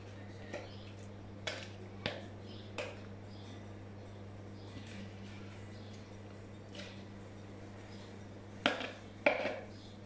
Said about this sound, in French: Alors on racle bien son bol pour récupérer tout.